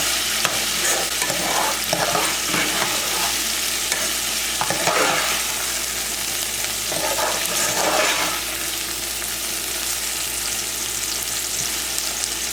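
Potatoes and vegetables, with tomatoes, fry in a pan, giving a steady loud sizzle and crackle throughout, broken by several scraping stirs of the spatula.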